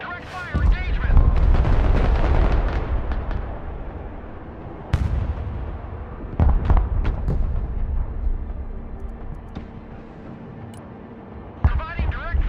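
Direct artillery fire in the Broken Arrow war game: heavy booming blasts and rumbling detonations, some sharp cracks scattered across the stretch, with radio-style voices speaking over the barrage.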